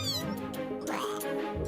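A cartoon cat in the Honkai: Star Rail video game gives a few bright, wavering meows, close and clear over faint game music.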